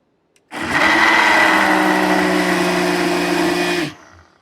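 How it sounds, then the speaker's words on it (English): Ninja CreamI protein Blizzard ingredients whir in a blender for about three and a half seconds, a loud, steady high-pitched motor that starts abruptly and cuts off cleanly. "So I'm just going to blend this for a second here."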